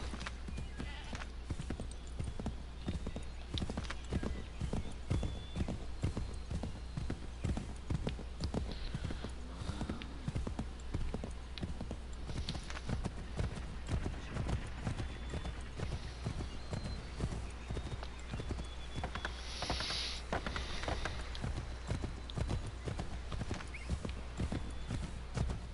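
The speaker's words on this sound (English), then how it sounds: "come on, horse, let's go" A horse gallops in the video game Assassin's Creed III, its hoofbeats a steady rapid clip-clop with an occasional whinny over a constant low game soundtrack, a voice speaking briefly partway through.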